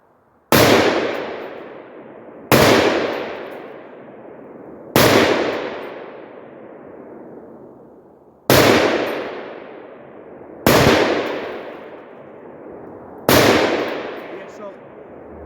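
A Palmetto PA-10 Gen3 AR-10 rifle fires six loud, sharp shots at steel targets 200 yards away, spaced roughly two seconds apart, each crack followed by a long, rolling echo.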